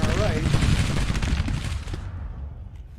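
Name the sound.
cannon fire in Grand Tactician video game battle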